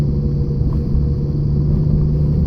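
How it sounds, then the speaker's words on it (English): Volvo with a manual transmission climbing a hill in third gear: a steady, loud low engine rumble and drone with a constant hum, close and unbroken. "I have to be in third gear when going up this hill, otherwise it'll stall out."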